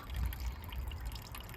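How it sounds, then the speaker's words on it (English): Water trickles steadily out of an old butler sink garden water feature fed by a small pump, a soft continuous dribble heard close up outdoors. "And that just trickles out water. There's a little pump in there"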